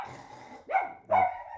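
A dog named Stormy barks twice at someone at the door, loud and close, each bark sharp and short after a stretch of quieter low sound.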